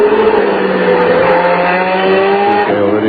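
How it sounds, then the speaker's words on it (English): Formula 1 car in the wet at the 1990 Canadian Grand Prix in Montreal, driven by Alesi into a corner: a loud, continuous high-revving engine scream with shifting pitch and constant spray-laden roar. "Alesi really shows a tremendous shot of the car where he flicks the car into the corner."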